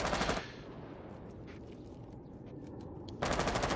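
Rapid automatic gunfire sprays through a wall in a competitive shooter match. Loud bursts come at the start and end, with muffled, rattling shots continuing quietly in between.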